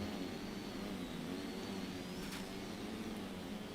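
An airplane engine in the RealFlight flight simulator game drones steadily throughout, a continuous whining hum over a broad rushing noise, with no talk.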